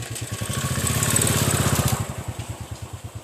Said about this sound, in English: another bike is coming